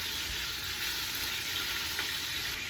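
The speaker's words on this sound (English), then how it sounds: "All right, so we've got that in there browning up" Pork butt, chuck steak and salt pork browning in a hot pan, giving a steady, dense sizzle and crackle that runs unbroken throughout with no talking.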